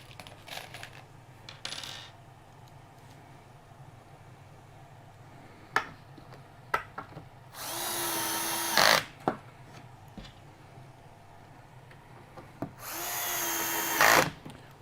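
A power drill drives screws into a melamine drawer beside a clamp, giving two sustained whirring bursts of about a second each, separated by quiet gaps with scattered small taps and knocks.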